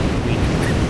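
Steady broadband roar of Pacific Ocean surf on the US West Coast, continuous and fairly loud with some wind buffeting the microphone and no distinct breaks.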